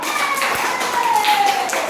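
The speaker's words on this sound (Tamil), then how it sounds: "எல்லாம் கை தட்டுங்க பார்க்கலாம்" A group of children at a church holiday Bible school claps hands together, a dense stream of quick overlapping claps, fairly loud and close, with a faint whistle-like tone running beneath.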